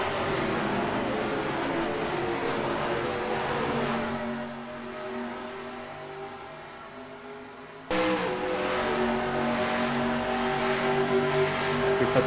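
Race cars from NASCAR Racing 2003 drone around the track in a steady, layered engine roar with shifting pitches as the field bunches up behind slower lapped cars, dipping briefly before surging louder.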